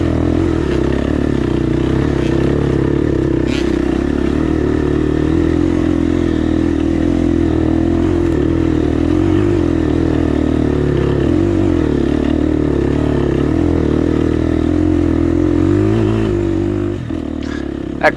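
An off-road motorcycle lugs in first gear up a steep climb on Coal Mountain on the Hatfield and McCoy trails. A deep, steady engine drone is heard with constant clatter from the trail, loud and close throughout.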